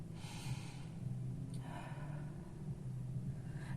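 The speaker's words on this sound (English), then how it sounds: "Please take a deep breath and relax your body." One deep, relaxed breath taken up close in a quiet room, a gentle inhale and exhale over a low, constant background hum.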